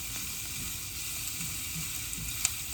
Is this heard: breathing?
no